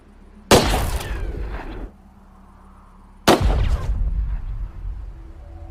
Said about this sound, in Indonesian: sehingga suara tembakan itu didengar oleh Emma.